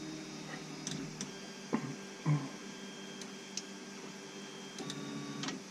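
A 3D printer homes its extruder, a faint steady motor hum broken by occasional soft ticks and clicks as the head moves, quiet and mechanical with no speech.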